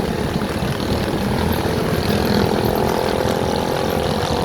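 Honda Click 125 V3 scooter fitted with a new pulley set, running with a steady, continuous engine drone and smooth droning hum that holds level throughout, no talking.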